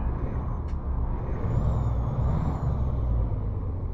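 Freightliner FLB truck engine in American Truck Simulator, idling steadily after start-up with a deep, loud, continuous rumble and a brief air hiss near the start.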